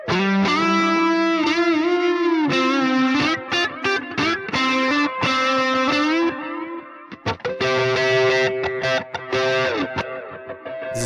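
A modulation effect in a free audio plugin, heard on a distorted synth line playing sustained and stepping notes with a swirling, wavering tone, loud and without talking.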